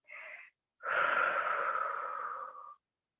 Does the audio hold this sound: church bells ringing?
no